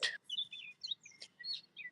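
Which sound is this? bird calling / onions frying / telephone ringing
bird calling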